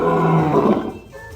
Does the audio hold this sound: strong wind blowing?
no